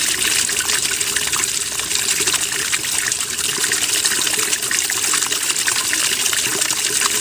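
A washing machine, supplied by an external pump, fills with water: a loud, continuous rushing gush that runs unbroken the whole time.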